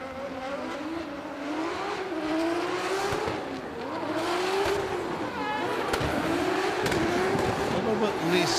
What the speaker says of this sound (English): Joyce dancing on the gas, bagging up the rear tyres